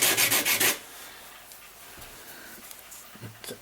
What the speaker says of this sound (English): so I just rub them down on the permagrit